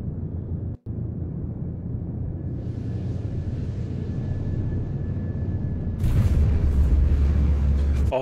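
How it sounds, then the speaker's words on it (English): A spaceship's afterburners in the video game Star Citizen give a steady, heavy, rumbling roar that grows and brightens near the end. No voices are heard. "there's the afterburners"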